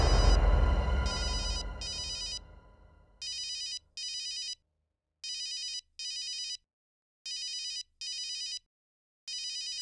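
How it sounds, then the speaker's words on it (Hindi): A telephone rings in repeated electronic bursts, pairs of trilling tones separated by pauses, after a loud fading sound at the start. "डॉक्टर नियति का फोन है, क्या करूं?"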